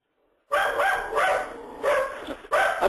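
A dog barks repeatedly in the background of a phone line during an online webinar, with loud bursts coming in several spaced groups, clear and intrusive over the call.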